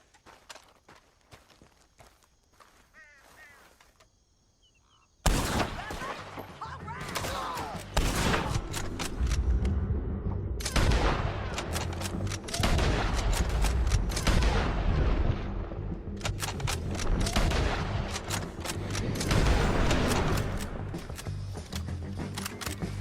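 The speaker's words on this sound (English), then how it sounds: "Let's just start shooting." Gunfire in Red Dead Redemption 2 erupts after a quiet stretch, with repeated loud sharp shots and bursts of cracks continuing over a rumbling background.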